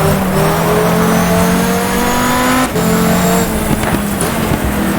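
A dense pack of race cars lapping the Nürburgring in the GTR2 racing sim during a VLN-style event, engines droning and revving steadily throughout with overlapping passes, and a brief dip midway.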